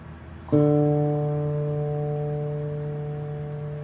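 One guitar D string is plucked and left to ring, its clear tone decaying gradually in a quiet room.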